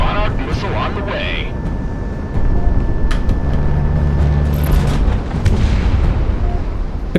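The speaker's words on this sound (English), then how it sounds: "Monarch missile on the way." A Monarch missile fires in the Project Wingman flight game, a loud booming launch and rushing roar over steady jet engine noise, with a voice talking over it.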